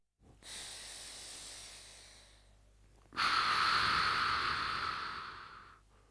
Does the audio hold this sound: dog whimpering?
no